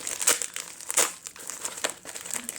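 Plastic packaging of an Ipsy glam bag is ripped open and crinkled up close, producing continuous crackling and crumpling with a few sharp louder tears.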